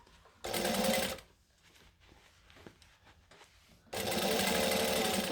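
A sewing machine back stitches a seam on a McCall's M6896 sleeveless top: two loud, steady whirring bursts of stitching separated by a quieter pause with faint handling noise.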